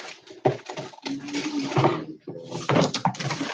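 A drawer is pulled open and rummaged through, giving a string of close knocks, rattles and sliding clatter in uneven bursts with brief pauses.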